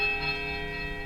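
A sustained chime from a bell in the Pillars of Eternity video game, a bright ringing tone with steady overtones that holds loudly and evenly for about a second.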